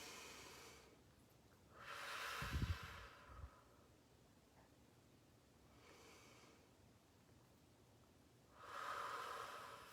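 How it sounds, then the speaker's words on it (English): A person takes slow, deep breaths, with a long audible inhale, a breathy exhale and then another inhale rising toward the end, close and quiet with pauses between. "Let's take a deep breath again first."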